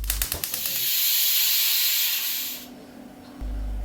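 A kitchen cooker steaming vegetables lets out a loud, steady hiss of steam that runs for about two and a half seconds after a few sharp puffs, then drops to a low hum.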